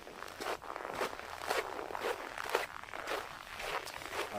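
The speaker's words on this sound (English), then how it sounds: "the sound of the footsteps in the snow" Rhythmic crunching footsteps in cold, dry snow on a sunny winter afternoon at -8 to -14°C, with steady paced crunches close to the microphone and no talking.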